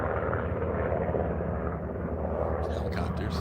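A steady low rotor drone from helicopters flying a little way off to the north, distant and continuous, with a person talking over it.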